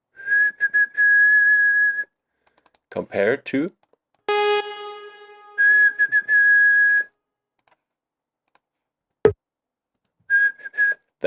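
A short synth blip note, transposed up one semitone from G to G sharp, repeats in bursts of pulsing tones with gaps of silence, while someone talks between and over the notes.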